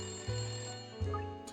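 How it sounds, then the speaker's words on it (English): A phone rings twice in the detective puzzle game Layton Brothers: Mystery, two short electronic ring bursts about a second apart over a steady background music bed. "Yep, that's the phone."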